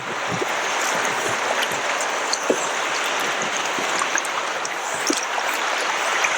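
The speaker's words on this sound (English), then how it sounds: "It's nice waves." Lake waves lap and splash around a kayak near Copper Harbor, a continuous close wash of water with small irregular slaps against the hull and no voices.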